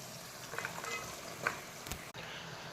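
Cleaned flat beans go into a hot pan in a home kitchen and fry, giving a soft, steady sizzle with a few light clinks and stirring scrapes, close by and fairly quiet.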